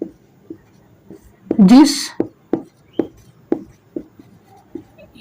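Chalk or marker writing on a board during a class 10 chemistry lecture on hydrocarbons, a run of sharp, regular tapping strokes with one longer scraping squeak, close up, with a teacher's voice briefly heard.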